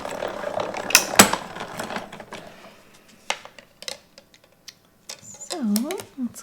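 A small mini die-cutting machine is hand-cranked in a craft room, giving soft irregular mechanical clicks and a ratcheting whir, with some handling noise and a brief squeaky rising-falling grind near the end.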